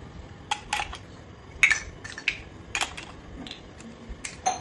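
Sharp, scattered clicks and taps from toy fruit pieces being cut apart, irregular and faint, a few quick snaps spaced through a quiet room.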